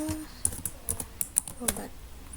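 Keys clack on a computer keyboard in a quick, uneven run of crisp taps close by, with a faint voice underneath.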